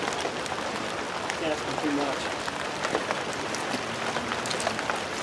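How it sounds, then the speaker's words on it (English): Light rain begins pattering outdoors during work on a 2002 Snapper S31SST 31cc machine, a fine, even crackle of drops on surfaces throughout, with someone talking briefly over it. "But it is starting to rain, so we gotta make it quick."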